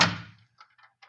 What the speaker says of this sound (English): Close the door, Malone